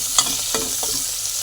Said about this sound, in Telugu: కరివేపాకు, జీలకర్ర, వెల్లుల్లిపాయ వేసి బాగా వేపాలి